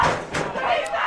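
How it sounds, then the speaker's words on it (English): Football game crowd yelling and chanting for defense on a third down, a loud sustained roar of many voices with swelling shouts. "crowd yelling defense"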